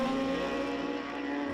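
Superbike engines in the GP Bikes racing game during a Bridgestone CSBK Pro Superbike race, a steady loud high-revving drone held throughout with no talk over it.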